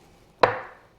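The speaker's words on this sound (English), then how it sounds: "I'm going to cut these into thirds using my badass Dow Strong Japanese chef's knife." A single sharp chop of a 10.25-inch Dow Strong Japanese chef's knife slicing through jarred baby corn onto a board, one crisp close knock with a short ringing tail, alone.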